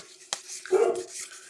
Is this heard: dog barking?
yes